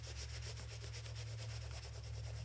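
A hand rubs wax stain into a wooden tobacco pipe, making a faint, steady series of rhythmic rubbing strokes over a low constant hum, with no speech.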